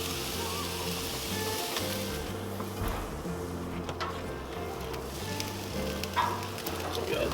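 Chuck steaks sizzle steadily on a Char-Broil Performance Series gas grill, a dense continuous crackle and hiss close up, with a low hum and faint clicks running beneath.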